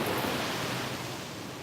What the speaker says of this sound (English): Yes, the waves are spectacular this morning.